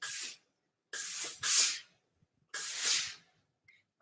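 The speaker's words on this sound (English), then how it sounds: "So when you iron like this, it disperses the steam correctly." Lore Star steam iron releasing steam onto quilting fabric in four short bright hissing bursts with silent gaps between them, close and fairly loud.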